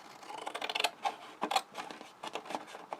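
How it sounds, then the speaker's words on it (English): Scissors snip through paper along a score line in a craft project, a run of close, crisp, uneven cuts with short pauses, loud and alone. "if you just cut right the way down"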